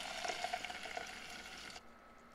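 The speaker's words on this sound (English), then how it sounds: "And then now I'm adding the tomato sauce." Tomato sauce pours into a skillet of hot oil and garlic, giving a steady sizzling hiss with a faint liquid gurgle that cuts off abruptly near the end.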